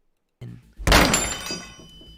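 A heavy, booming thud of a lock breaking hits after a faint lead-in knock, then rings out and decays with a metallic tail, with nothing else over it.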